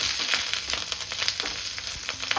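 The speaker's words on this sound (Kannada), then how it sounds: "ಕರಿಬೇವು, ಮೆಣಸಿನ್ಕಾಯಿ ಹಾಕ್ಕೊಳ್ಳಿ. ಮೆಣಸಿನ್ಕಾಯಿ ಹಾಕ್ಕೊಂಡು ಸ್ವಲ್ಪ ಫ್ರೈ ಮಾಡ್ಕೊಳ್ಳಿ" Curry leaves and green chillies fry in a very hot pan for a ladies finger dish, crackling and spattering in a loud, continuous sizzle with sharp pops.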